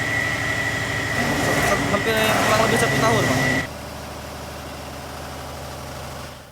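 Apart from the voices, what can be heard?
diesel engine running a power generator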